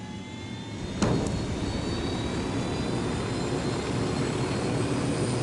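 Aircraft engine in the Ghost Recon Wildlands video game, a loud steady roar that swells at about one second and holds, with a brief sharp click near the onset.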